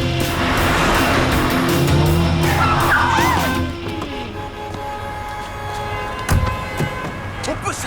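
A car engine revs hard and accelerates close by for about four seconds, with a brief tire squeal, then eases into a lower road rumble with a sharp knock near the end.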